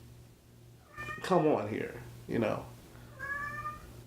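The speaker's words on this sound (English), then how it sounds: "I hear the cat." A cat meows several times, drawn-out and wavering, close by, with a voice speaking briefly between the calls over a low steady hum.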